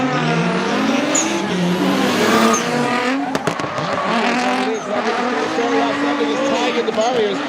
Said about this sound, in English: This is U.S. drifting versus Japanese drifting in our first battle of the top 16.